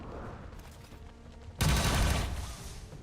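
A burst of gunfire from an Astra Militarum soldier in the XCom 40k game strikes after a quiet stretch, a loud sustained volley ringing on and slowly fading.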